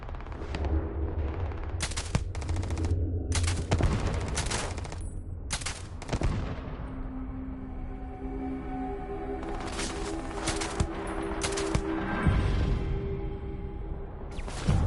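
Gunfire from a firearm in the video game Starfield: repeated loud bursts of rapid shots, several separated volleys with gaps between them, close and punchy over a steady low background hum.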